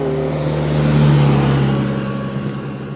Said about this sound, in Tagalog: Parang garbage collector yun.